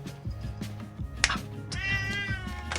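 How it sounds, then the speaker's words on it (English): A house cat meows for food in a few drawn-out, rising cries over a steady low hum and faint background noise, moderately close. "my cat's asking for food right now"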